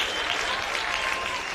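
Baseball crowd at a state league grand final applauding a stand-up double, steady dense clapping that holds at an even level from start to finish with no talk over it.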